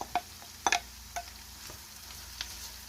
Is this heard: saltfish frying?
yes